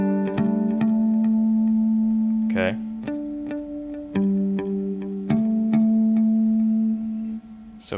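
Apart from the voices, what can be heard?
electric guitar harmonics on 12th fret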